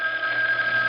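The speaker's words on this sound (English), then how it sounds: "The phone is ringing." A telephone bell rings steadily and fairly loud throughout, a continuous sustained electric ring with a strong high tone, no voices over it.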